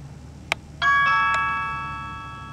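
A mobile phone goes off with a short tick followed by a bright chime of ringing tones that sound out together and then fade slowly, close and clear over a quiet room, with no talk.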